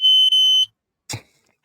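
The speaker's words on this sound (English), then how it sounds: "That was my timer" Timer alarm going off, a loud high-pitched electronic beep lasting under a second with a brief break, followed after a pause by a short thud.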